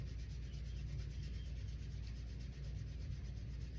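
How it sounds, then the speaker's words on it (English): Hands rub briskly together in a steady, continuous swishing friction during a yoga meditation practice, close and fairly quiet. "Go ahead and rub your hands together."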